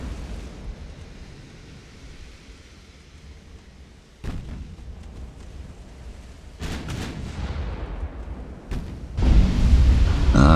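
Naval gunfire from a dreadnought-era battleship in a naval combat game, several sharp booming shots over a low rumbling background, the last and loudest near the end.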